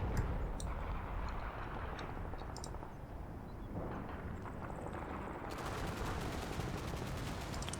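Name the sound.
machine gun fire in video game Combat Mission Blood on the Snow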